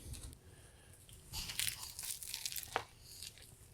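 A bite into a grilled cheeseburger with patties about 3/8 inch thick on soft buns, heard as a few quiet, close crunching and tearing bites spread across a few seconds.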